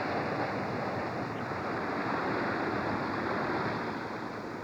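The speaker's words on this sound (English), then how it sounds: "So even at night you can feel the waves." Ocean waves wash continuously at night around a voyaging canoe on the open sea, a steady close rushing hiss with no voices.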